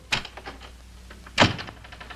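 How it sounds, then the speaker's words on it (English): A door swings shut in an army office with one solid thump after some soft rustling and footsteps, heard close and alone. "Close the door."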